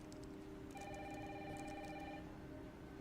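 A telephone rings in a game trailer scene, its repeated electronic trill bursts sounding fairly close and steady over a continuous background of heavy rain.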